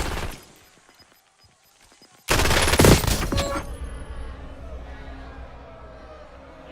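Video game gunfire breaks out suddenly after a quiet stretch of faint clicks, a loud burst of rapid shots with a shouted voice over it, then fading into a lingering rumble of distant battle noise.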